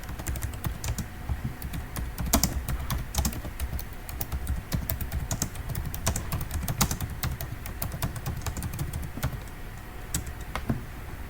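Rapid, steady clicking of keys on a computer keyboard as text is typed in, close and fairly quiet, with no talking over it.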